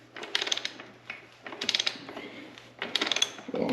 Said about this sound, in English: Throw on the 32 there and start wrenching her off